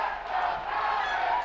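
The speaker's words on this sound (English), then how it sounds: "this huge Komet crowd is fired up after that fast start" A big hockey crowd at a Komets playoff game in Kalamazoo roars and cheers after a Komets goal, a dense, sustained wash of voices that fills the arena for the whole moment.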